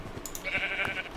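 A sheep in Minecraft Alpha 1.1.2_01 gives a short bleat, a brief wavering cry heard near and alone against faint game background.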